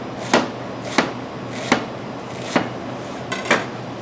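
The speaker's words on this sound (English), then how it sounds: "We're going to take some radicchio. We're going to slice that nice and thin." Kitchen knife thinly slicing radicchio on a cutting board: five crisp, evenly spaced chops sound close and clear over a quiet background, with no voices.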